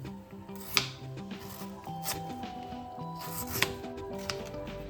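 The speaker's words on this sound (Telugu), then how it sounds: "అందుకని పెద్ద పెద్ద ముక్కలే కట్ చేసేసుకుంటున్నానండి." A knife cutting raw mango into big pieces for Andhra-style pachadi, with a couple of sharp, sparse cuts over a faint steady background.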